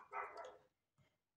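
A daughter's female dog barks indoors in a home craft workspace, one loud sustained bark followed after a pause by a shorter, quieter bark, nearby and alone with no talking.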